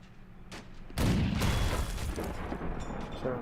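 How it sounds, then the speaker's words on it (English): A Sherman tank fires on a Chi-Nu tank in a modded tank video game: one sharp, heavy cannon boom lands about a second in, followed by a rolling rumble that fades slowly over low background noise. "Sherman putting fire onto the Chinu, tracks it"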